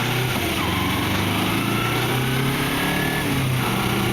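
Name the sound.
Kawasaki Ninja 250R motorcycle engine while riding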